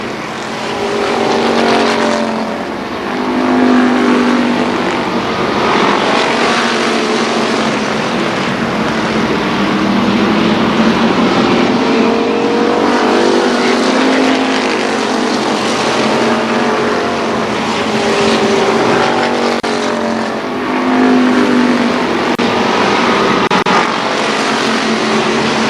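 Midget race cars roar around the oval at Columbus Motor Speedway, a loud, steady engine drone with rising and falling pitch as the cars pass close by, continuous throughout with no clear gaps.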